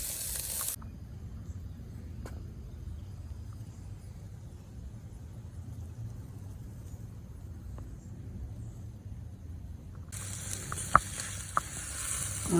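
Chicken wings sizzling over fire on a Weber Kettle grill, a steady low crackling hiss that runs on alone, with brief louder sizzle bursts at the start and end.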